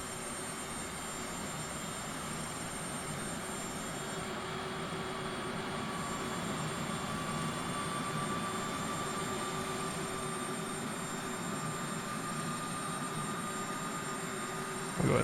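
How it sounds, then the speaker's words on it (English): A Boeing 737 jet engine spools up in the IXEG 737 flight simulator, a quiet steady turbine whine and hum holding evenly with a faint rising tone, no talk over it. "The engine's starting up there."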